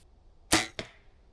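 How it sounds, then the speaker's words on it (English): An arrow smacks into arrows already lodged in a target during bowhunting practice in Wisconsin woods: two sharp, loud cracks about a third of a second apart, then quiet. "Oh, I hit arrows. I could hear that."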